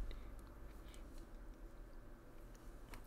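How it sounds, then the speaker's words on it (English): Faint crunchy chewing of potato chips in the video game I Wani Hug That Gator, soft scattered bites over a quiet background with no voices. "Olivia rolls her eyes and rarely goes back to munching on her chips"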